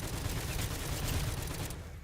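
Fireworks effect on a gun in Call of Duty zombies, a loud, dense burst of crackling pops and rapid gunfire-like bangs that thins out and fades at the end.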